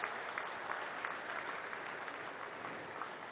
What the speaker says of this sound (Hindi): तालियों की गड़गड़ाहट से सचमुच नितिन जी का अभिनंदन किया जाना चाहिए